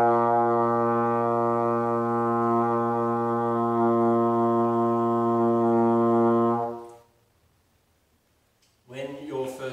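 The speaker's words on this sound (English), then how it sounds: "hopefully you get a B flat note that sounds like this." A trombone holds a steady B flat, sustained and clear for about seven seconds before it cuts off into near silence. A brief voice follows at the end.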